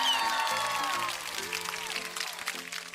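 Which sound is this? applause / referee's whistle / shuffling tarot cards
applause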